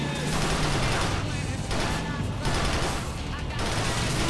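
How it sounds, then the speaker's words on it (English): Gunfire in Grand Theft Auto IV as car tires are shot out, several bursts of rapid shots in a row, loud and dense, broken by short gaps. "we shot out all the tires"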